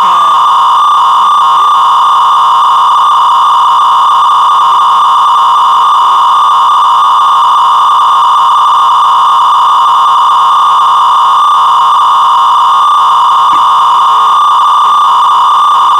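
A dial-up modem gives off a loud, steady electronic tone made of two sustained pitches. It holds unbroken and unchanging throughout, with nothing else audible.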